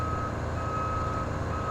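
A truck backs up with a steady, evenly spaced electronic reversing beep sounding over a low idling engine, with no talking.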